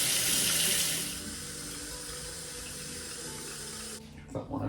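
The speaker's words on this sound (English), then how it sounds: "I'm going to get the water warm, because I always like using warm water" Warm water gushes loudly from a kitchen tap, starting strong and settling into a steady running stream before being shut off near the end.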